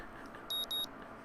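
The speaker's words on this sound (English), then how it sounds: "I don't know why I keep the early alarm on anymore, but it wakes me up the next morning just the same" A video game alarm clock in Katawa Shoujo gives two short electronic beeps in quick succession, quiet and thin over faint background hiss.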